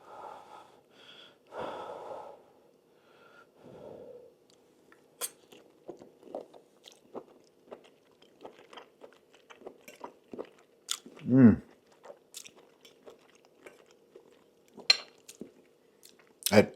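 Someone eats shrimp in cilantro lime cream sauce, with soft wet chewing and sparse clicks from cutlery and dishes. Quiet breaths and brief mouth sounds come and go, with a louder bite or clink near the middle and another near the end.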